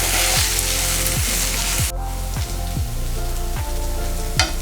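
Fried rice with fried cashews is stirred in a hot pan, giving a constant sizzle broken by a spatula scraping through the rice in regular strokes about once a second.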